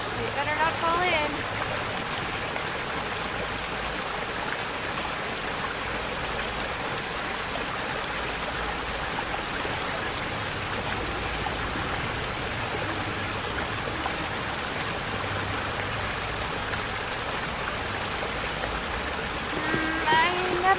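Water in the Asterigos: Curse of the Stars video game flows in a steady, broad rushing wash, constant and fairly loud throughout, with a voice talking over it.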